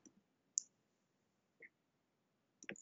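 A few sparse clicks of a computer keyboard being typed on, spaced irregularly with short pauses, faint and close in a quiet room.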